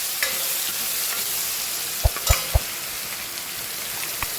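Cumin, asafoetida, chopped tomato, onion and chili fry in a pan over mustard seeds on a full flame. A constant loud sizzle fills the background while a few sharp spoon clinks land near the end, with no talking.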